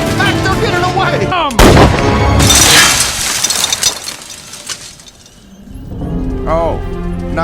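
Gunfire in the animated film Alpha and Omega: a sharp loud blast followed by a burst of crashing, rumbling shots, mixed with excited voices and music.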